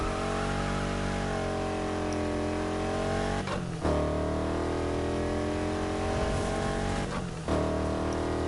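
Big V8 burnout car idling with a deep, steady rumble, close and loud throughout, with two brief dips and blips in the engine note and no talking.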